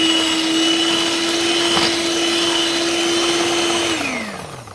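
An electric hand mixer whirs steadily through cake batter in a home kitchen, a loud, even motor drone that holds for several seconds and then slows and winds down at the end.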